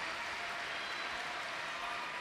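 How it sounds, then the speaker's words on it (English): Paralympic crowd at a London 2012 men's team table tennis quarter-final, cheering for Great Britain: a steady, dense wash of applause and noise that holds throughout with no individual voices standing out. "the crowd are going wild for this Great Britain team"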